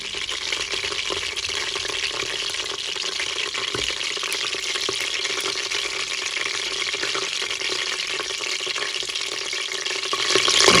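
Bell peppers frying in oil in a Cookeo multicooker, a dense, steady sizzle and crackle holding at an even level throughout and swelling slightly at the end.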